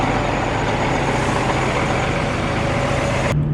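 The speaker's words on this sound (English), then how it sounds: "I got the plow behind me, Spencer's truck here" Heavy truck towing a drainage-tile plow through a field, its engine a steady loud broadband roar with a low droning hum throughout, cutting off abruptly near the end.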